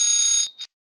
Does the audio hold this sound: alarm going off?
yes